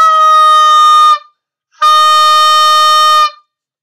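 An oboe sounds two sustained E-flat notes, each held about a second and a half with a short gap between them. The tone is clear and reedy with bright harmonics, close and loud, with no talking.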